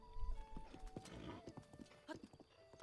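Horse hooves clip-clopping in Zelda: Breath of the Wild, a quick run of hoofbeats with a few faint whinnies over game sounds and background music, clear and moderately loud.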